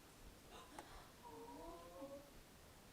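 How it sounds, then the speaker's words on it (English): A cat meows faintly a few times in a quiet room, a soft drawn-out call with no one talking over it. "Is that your own cat?"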